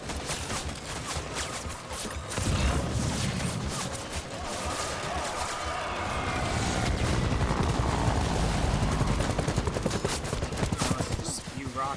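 Rockets are fired in Death Stranding, a dense, continuous barrage of rapid blasts and booms that builds louder toward the middle, with a voice faintly heard under the noise.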